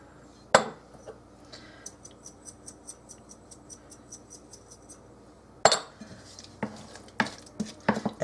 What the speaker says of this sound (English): we're just going to mash this all up the best we can just with this